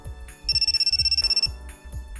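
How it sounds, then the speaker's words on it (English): A phone ringtone plays as a rapid, pulsing electronic trill that lasts about a second. A steady beat of low thumps runs beneath and around it. "I got a phone call."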